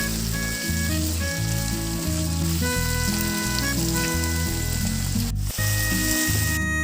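Chopped onions and tomatoes frying in a pan for paneer malai kofta, a constant dense sizzle heard under loud music with steady sustained notes, with no voice present.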